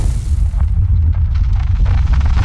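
A burst of fire roars out as a heavy, loud whoosh with deep rumble, swelling and crackling as it sustains during a fantasy fight scene.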